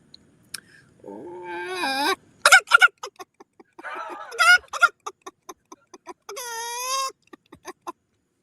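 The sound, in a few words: person imitating a chicken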